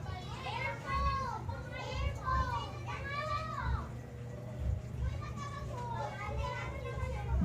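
Children play outside, their shouts and high calls rising and falling in bursts over a steady low hum, at a moderate distance.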